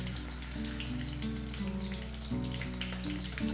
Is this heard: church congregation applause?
no